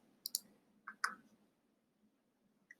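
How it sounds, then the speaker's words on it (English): A few sharp computer mouse clicks on a Launch Recorder button, two quick pairs close together and a faint final click, crisp and near against a quiet background. "I'm going to click Launch Recorder"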